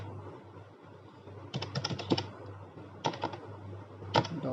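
Bursts of computer keyboard typing while code is entered for a Python weather data analysis, fast clattering runs of keystrokes in three separate flurries over a low steady hum, close and clear with no talk.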